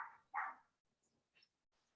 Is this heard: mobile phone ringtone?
no